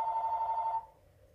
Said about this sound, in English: The phone rings and shit.